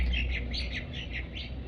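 Small birds chirping nearby, a quick run of bright repeated tweets in a steady pattern over a low background hum, fairly close and clear with no talking.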